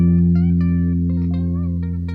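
A single guitar note rings steadily from the first fret of the sixth string, a low sustained tone with a few faint higher plucks or fret noises over it, close and fairly loud, no talking.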